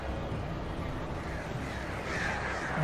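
Dense, continuous wash of crows cawing in the video game Alan Wake, a thick layered flock noise that stays loud and steady throughout with no talking.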